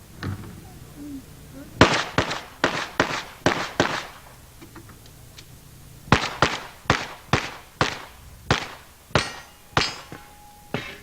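Pistol shots fired by a woman competitor on a 1988 USPSA National Championship match stage: two rapid strings of sharp, loud cracks, about six in the first burst and eight in the second, evenly paced with a short pause between.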